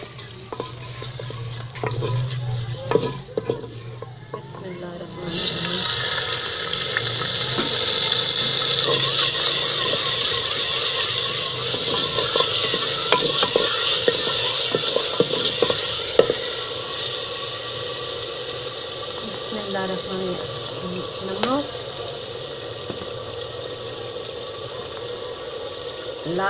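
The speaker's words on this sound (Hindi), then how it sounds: "घी हो चुका बिल्कुल गर्म। अब इसमें प्याज डालना है।" Onions go into very hot ghee, setting off a steady, loud sizzle with spoon stirring and scraping over it. A brief spoken phrase comes just before the frying swells up.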